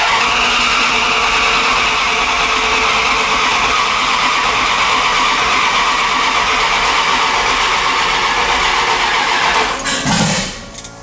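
A turbocharged Dodge 5.9 Magnum engine on a standalone ECU, sprayed with starting fluid, cranks loudly and continuously for about ten seconds, then briefly catches and fires before cutting off.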